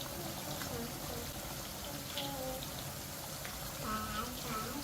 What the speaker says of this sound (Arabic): تضيف حبة مية صغيرين بحيث ان هي تغطي الجزر، وتكون برضو مية مغلية